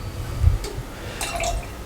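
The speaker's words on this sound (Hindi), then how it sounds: "ये 200 ml वाटर ये इसके अंदर शामिल करते हैं" Water measured to 200 ml is poured into mango pulp, giving a soft splashing trickle with a low thud, close and moderately loud, lasting under two seconds.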